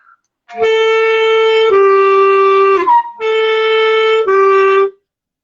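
A clear clarinet tone sustained on the note B, played in two long phrases with brief breaks and slight shifts in tone between them, solo and close.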